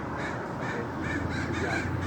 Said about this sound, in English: see the crows? They're after whatever that is in the tree.